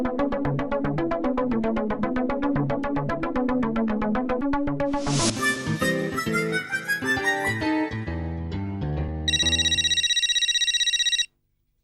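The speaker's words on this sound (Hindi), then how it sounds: "ये देखो जेठालाल का फोन" A phone ringtone plays a looping melodic tune, shifting into a rising jingle, then a bright electronic ringing burst before cutting off abruptly.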